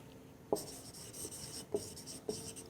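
A teacher writes words on a classroom board, chalk or marker strokes scratching in short bursts with three sharper taps, close and moderately quiet against a faint room hiss.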